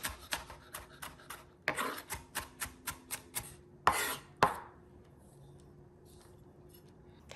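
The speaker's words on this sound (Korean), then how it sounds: "실제로 잘게 썰어 주시고요." A knife finely chops a jalapeño pepper on a cutting board, with a quick, regular run of close, crisp taps, two heavier knocks, and then quiet.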